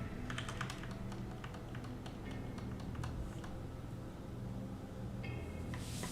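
Mouse and keyboard clicks from someone drawing in Photoshop: a cluster of quick light taps early on, then sparser single clicks with quiet gaps, close and fairly soft.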